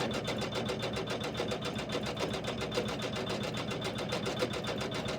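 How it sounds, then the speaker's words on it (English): An embroidery machine runs steadily while stitching a tree skirt, its rapid even needle clatter continuing loud and alone, with the faint snip of the thread cutter folded into the rhythm. "most of us know the sound of our machine cutting the threads"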